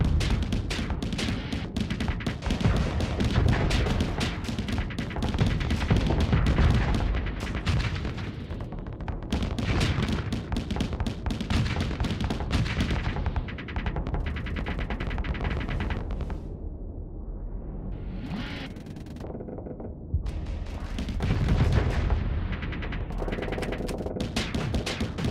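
Spaceship guns firing in the space combat game Starsector, a dense, continuous barrage of loud booming shots and explosions that thins briefly midway before resuming, with no talking.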